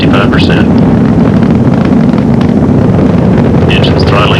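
Space Shuttle Discovery's three main engines roar through a 1988 launch as they throttle down to 65% for max Q, a loud, steady broadband rumble that never breaks, with faint radio-style chatter at the start and end.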